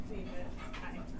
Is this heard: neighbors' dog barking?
yes